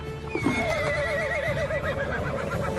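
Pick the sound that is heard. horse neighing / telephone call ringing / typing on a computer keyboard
horse neighing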